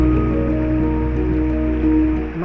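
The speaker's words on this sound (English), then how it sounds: "The river's not roaring today, it's just babbling." Shallow Highland river in Scotland babbling steadily on a freezing day, a close, continuous wash of running water with no voices.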